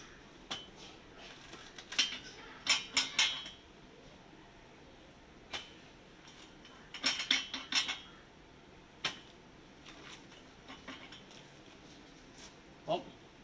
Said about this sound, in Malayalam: ഇങ്ങനെ ചക്ക എളുപ്പത്തിൽ നമുക്കിത് മുറിച്ചെടുക്കാം